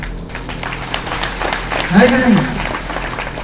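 Audience applause at a DXN business meeting, a steady wash of clapping from a crowd running throughout under someone speaking Hindi over a microphone.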